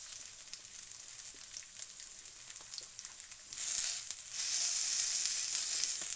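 Chicken thighs fry in a hot pan with a steady crackling sizzle that swells louder partway through as the meat is pressed down, close and alone without speech.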